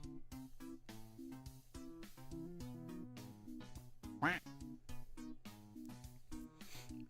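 In a stream duck video game, a single quick quack rises once over bouncy, rhythmic background music.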